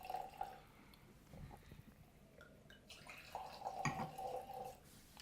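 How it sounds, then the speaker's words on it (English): White wine poured into a glass at a blind tasting, a soft liquid trickle with a few faint drips and splashes, quiet and close, no talking. "So I'll pour a little bit for you first."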